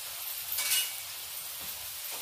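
Elephant foot yam (jimikand) frying gently in hot ghee gives a soft, steady sizzle with a slightly louder hiss partway through, low and close.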